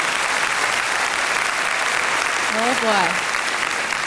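A concert audience applauds steadily with dense, continuous clapping, while a voice briefly calls out over it near the end.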